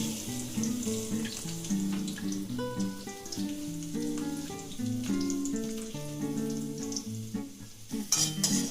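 Chopped onion sizzles and fries in hot oil while cooking chowmein, a continuous crackling hiss running beneath prominent melodic background music.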